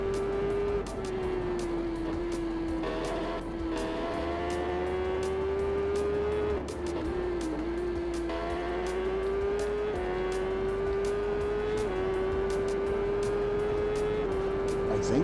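Supersport motorcycle racing in TT Isle of Man 3, a loud sustained engine drone with a high pitch that rises and falls through gear changes, steady and close throughout, with no talking.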